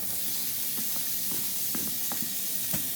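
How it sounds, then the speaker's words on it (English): Onions sizzling in a hot pan, a steady close hiss filling the whole stretch with small crackles and pops scattered through it, no voices. "we are going to cook our onions up for a couple minutes"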